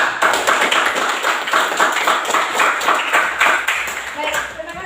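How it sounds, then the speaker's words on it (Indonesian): Classroom applause for a student group after their presentation, a steady dense patter of many hands clapping together for about five seconds, fairly loud and close, with faint voices mixed in. "Kita beri aplaus."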